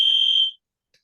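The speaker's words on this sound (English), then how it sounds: "the fire alarms go off" Smoke or fire alarm blaring one loud, shrill electronic beep for about half a second, then silence and a faint short chirp after it.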